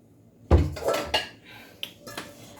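Bread dough set down into a bowl, with a heavy thump followed by several lighter clinks and knocks of bowl and utensils on a kitchen counter, close and clear, no talk.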